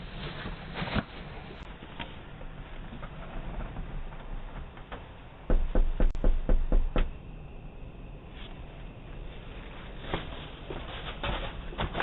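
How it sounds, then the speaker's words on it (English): Knocking on a house door at night by a drunk man, a loud burst of several rapid knocks midway, with fainter scattered taps before and after against a steady noisy background. "This drunk guy shows up at a random house at night and starts knocking."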